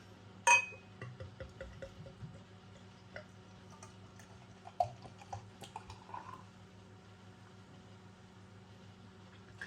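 A beer glass being handled ahead of pouring Hawkstone Lager: sparse glassy clinks and taps, one sharp knock early and another midway, with faint ticking and rustling between them in a quiet room.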